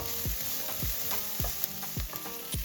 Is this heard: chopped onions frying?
yes